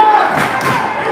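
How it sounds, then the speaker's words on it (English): A crowd at a boys' varsity high school basketball game on senior night rises in a loud, swelling roar of cheering during a defensive possession. The mass of voices is close and continuous, with some indistinct shouting mixed in. "Crowd getting into it here with a defensive chance."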